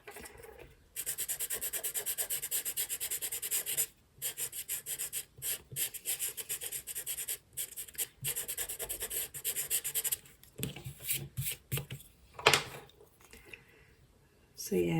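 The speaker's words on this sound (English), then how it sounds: "So a little bit of rubbing out there." A pencil drawing of Humpty Dumpty is rubbed out with an eraser in close, steady scrubbing strokes that come in bursts with brief pauses, growing patchier near the end.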